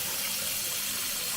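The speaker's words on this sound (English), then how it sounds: "I'll fill the sink with water right now." Tap water runs steadily into a kitchen sink, filling it to soak a warped piece of balsa wood; a soft, continuous broadband rush close by with no talk.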